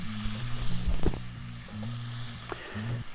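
Sausage meat sizzles and crackles in hot oil in a stainless steel pan, a steady close frying hiss with a few sharper pops and stirring clatters, no voices.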